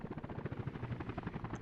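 A helicopter in the city-building game Workers & Resources flies by, its rotor chopping in a fast, steady pulsing beat, faint and uninterrupted with no voices.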